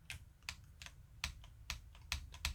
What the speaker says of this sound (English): you should be able to press the keys next to it and not feel any